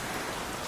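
Rain falling late at night, a steady hiss of drops on surfaces, even and unbroken, moderately soft with no voices.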